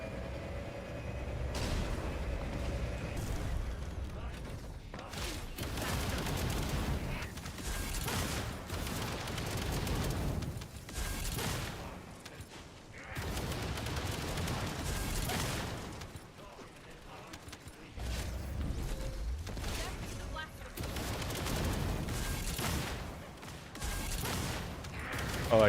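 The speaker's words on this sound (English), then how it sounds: "quite literally carpet bombing" A barrage of explosions from a carpet-bombing attack in The First Descendant, a shooter game, with repeated booming bursts and mechanical rumble spread over the stretch, loud and continuous with short gaps.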